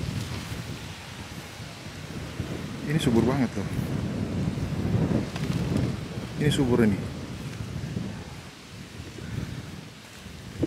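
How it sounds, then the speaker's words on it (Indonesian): Strong, cold wind rushes across a hillside avocado orchard in Kintamani during the windy season, a steady broadband roar that swells in gusts and buffets the microphone while people talk over it nearby. "Anginnya kencang, dinginnya angin Kintamani nih"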